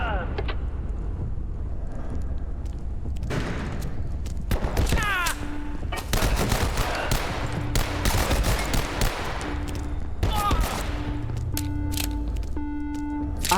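Pistol shots in the video game Abiotic Factor crack out in scattered single bursts and quick clusters over game ambience, with a voice speaking intermittently between them.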